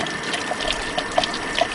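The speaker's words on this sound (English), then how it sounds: "I usually give my brush a nice little shake underneath the water as the water's running down it" Tap water runs steadily over a paint brush being rinsed under the stream, a close, continuous splashing wash with small bubbly blips as the brush is shaken.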